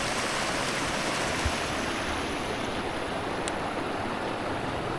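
A river flows steadily at evening, giving a continuous broadband rushing wash with no pauses, heard at moderate level.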